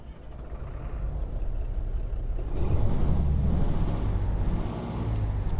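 A Freightliner Argosy truck in American Truck Simulator starts up: a steady low rumble swells midway into a heavier, close engine idle, with a faint hiss and a thin high whine above.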